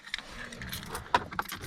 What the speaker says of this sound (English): I'm gonna stick my keys in a car